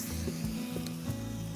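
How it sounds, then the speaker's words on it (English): Onions sizzling and frying in a hot pan, a steady close crackle with faint stirring movements and no talking. "Just make sure that you keep jumping the onions, see? Otherwise they burn."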